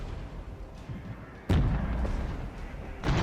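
Artillery fire booms in the video game Regiments, with two heavy, deep blasts about a second and a half apart over a constant rumble of battle.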